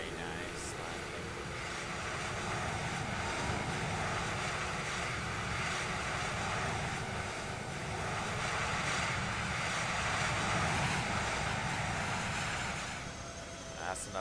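Airliner roaring with reverse thrust after touching down, sustained broad engine rush with a steady, slightly swelling level throughout, in the video game Microsoft Flight Simulator.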